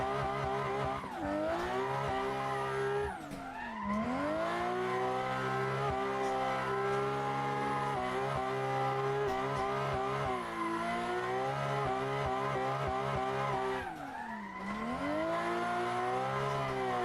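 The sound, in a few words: car drifting with tire squeal in the video game Assetto Corsa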